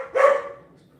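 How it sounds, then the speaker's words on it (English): A single dog bark, close and fairly loud, one short sharp burst that quickly trails off into quiet. "dog bark"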